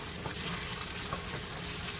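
Tomato paste fries in a pot for Haitian oxtail, giving a soft, steady sizzle with faint crackles and the occasional stir, quiet and close with no talking.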